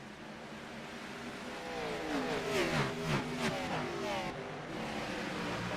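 Several race cars accelerate together at a restart in a racing video game. Their engine notes rise and overlap into a swelling, layered roar, then settle into a steady drone.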